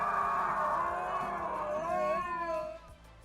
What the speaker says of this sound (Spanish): sus dos compañeros de al lado decidieron que sería un buen viaje para practicar sus aullidos